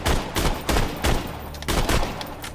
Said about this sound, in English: It is the ornery Gatling gun. So it's Gatling gun type.